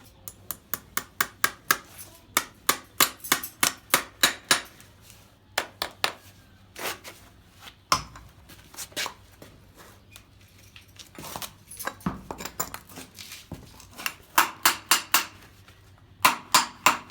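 Nails are hammered through a horseshoe into a horse's hoof with rapid, sharp metallic taps in quick bursts, pausing briefly between runs. The strikes are close and ring clearly with no talking.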